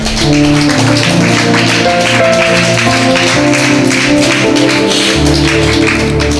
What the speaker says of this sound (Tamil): நல்லா புரிஞ்ச மாதிரி கை தட்டுங்களேன்.